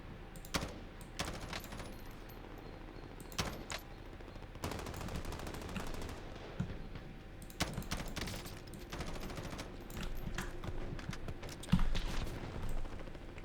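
Pistol gunfire in the Call of Duty Warzone battle royale game, with sharp single shots and short bursts scattered irregularly over steady in-game background noise, fairly close and loud at moments.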